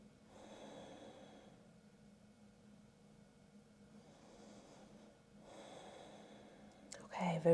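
Slow, deep full-body breaths during a seated yoga stretch: two long, soft breath cycles close to the microphone with quiet pauses between, ending in a brief clatter.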